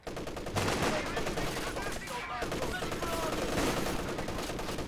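Machine guns, including an MG34, trade sustained fire in a Company of Heroes 2 multiplayer battle, with dense crackling bursts rattling over continuous battlefield din for several seconds.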